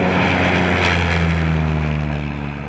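A military drone aircraft pulls up its nose for takeoff, its engine and propeller giving a loud, steady drone with a sustained low hum throughout, nearby and alone.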